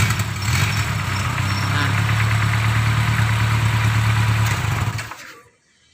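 A Toyota Kijang 5K engine idles steadily and loud with a deep, even hum, then cuts off abruptly near the end, leaving near silence; a voice briefly speaks over it.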